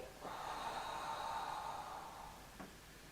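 A long, steady exhalation through the mouth during a beginner-to-intermediate Pilates exercise, close and breathy, lasting about two seconds and ending with a short sharp intake of breath.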